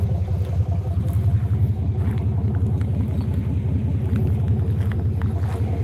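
A 1985 Chevy engine running after a cold start with gas in the carburetor, a loud, close, steady low rumble with a pulsing idle throughout.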